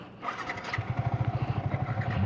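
A Yamaha R15 V3 motorcycle engine cranks and catches, settling into a fast, pulsing idle that stays close and fairly loud for a couple of seconds.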